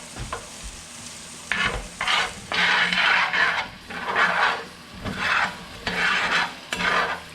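Flour being stirred into hot bubbling oil for a shrimp-and-grits roux, with rhythmic scraping strokes over a steady sizzle, close and fairly loud, the waves of stirring rising and falling about once a second.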